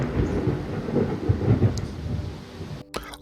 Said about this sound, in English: I waited till the thunderstorm stopped